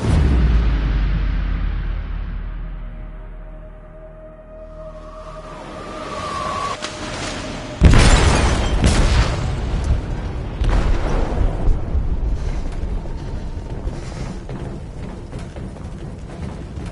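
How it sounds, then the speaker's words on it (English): Explosion aboard a ship in the video game Detroit: Become Human, a sudden loud blast at about eight seconds followed by crashing, rumbling debris and continued heavy noise, preceded by a building low rumble. "They detonated an explosive in the hold. The ship is sinking, sir."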